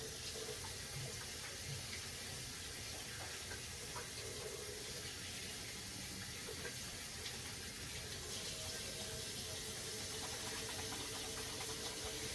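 Hands are washed under a running kitchen sink tap, a steady, faint rush of water with light splashing that continues evenly throughout.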